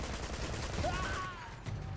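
Gatling gun fire in the video game Uncharted 2, a dense continuous rattle of rapid shots under a wash of game noise, with a brief whistling streak passing over.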